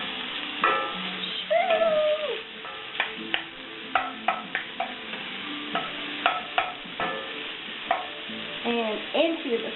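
Mushrooms sizzle and crackle in a hot skillet while a utensil scrapes and stirs them in short repeated strokes, the frying hiss steady underneath for a one-pot skillet dinner.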